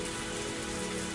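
Rain falls steadily in the game Higurashi Tatarigoroshi, a dense even hiss of drops on a surface with a faint low tonal hum underneath, constant and without pause.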